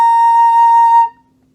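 A flute sounds a single sustained B flat, a pure steady tone held for about a second before stopping cleanly, close and loud in an otherwise quiet room.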